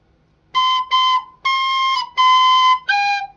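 Five clear B notes on a tin whistle, mostly the same high pitch, with short gaps between them and the last slightly lower, played alone in quiet.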